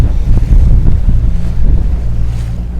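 A sailboat cruises on the open ocean near Hobart, with loud gusting wind buffeting the microphone over a low rumble of hull and water, no voices.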